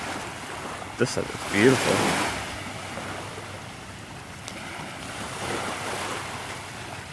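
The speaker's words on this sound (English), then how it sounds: "I'm just watching all of these little waves, small waves capping, and just how they're rolling in" Small ocean waves roll in and cap along a shoreline, a continuous soft wash of surf with wind buffeting the microphone; a voice briefly speaks near the start.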